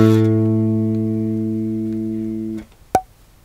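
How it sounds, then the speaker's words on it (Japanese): A bass guitar sounds a single sustained A on its G string, a full, harmonic-rich low note ringing for about two and a half seconds before being cut off, followed by a brief click, alone with no talk. "A の音になります。"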